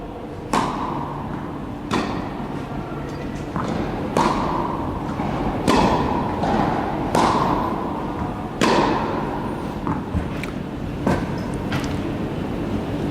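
Repeated sharp thwacks of a tennis racket striking the ball ring out at irregular intervals of a second or two on an outdoor court, with faint distant ambience between hits.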